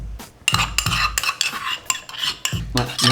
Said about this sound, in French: Ouais, mélange vigoureusement.